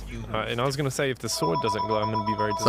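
A telephone rings with steady electronic tones partway through, partly masked by continuous lively conversation between gamers.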